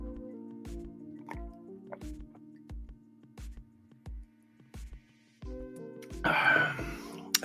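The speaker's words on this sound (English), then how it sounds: "Let me drink some of my coffee before it gets cold." Someone sipping coffee from a cup, a series of quiet, regular swallowing gulps with faint wet sounds, ending in a louder slurp or exhale, close and otherwise still.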